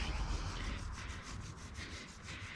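A microfiber cloth rubbing a kerosene-soaked chain on a Suzuki GSXR 1000 motorcycle, around the rear sprocket, makes steady rhythmic wiping strokes, soft and close with no talk.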